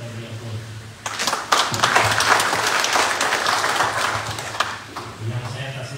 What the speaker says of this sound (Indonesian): Kita beri aplaus.